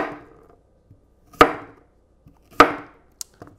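A kitchen knife chops straight down through a cucumber in two sharp, close cuts, each a crisp thunk on the board, followed by a lighter click and small knocks near the end; no talking.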